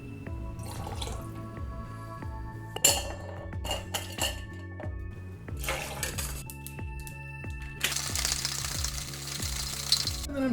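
Ice clinks and rattles in a cocktail shaker as a Sex on the Beach with vodka, peach schnapps, cranberry and pineapple juice is mixed, with irregular knocks building into a dense, continuous rattle of vigorous shaking near the end.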